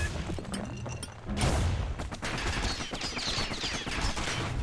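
Enemy gunfire from the video game Bastion, a dense burst of rapid shots and thudding impacts that keeps going for several seconds, loud and cluttered, with no voices.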